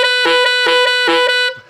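A saxophone plays a false-fingering harmonic for low C sharp: four short, bright, tongued notes in a quick even rhythm, close and loud, with no talking.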